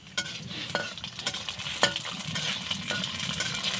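Fuchka puris frying in a home kitchen, oil crackling and sizzling steadily with scattered sharp pops and the scrape of a spoon stirring, close and continuous with no talk.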